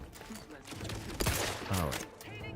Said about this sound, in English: Who's shooting at me and where?